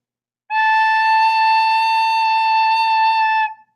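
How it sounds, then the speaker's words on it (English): A single steady recorder note A held for about three seconds, clear and pure with bright overtones, played alone without any talking. "And the A sounds like this"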